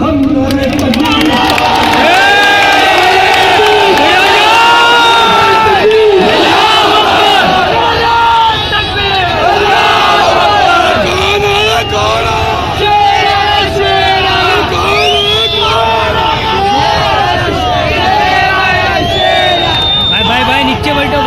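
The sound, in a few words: crowd chanting slogans at rally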